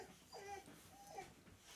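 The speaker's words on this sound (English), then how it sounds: "That audio is a dog." An upset dog whimpers indoors at something outside, two faint, high, wavering whines close together in a quiet room.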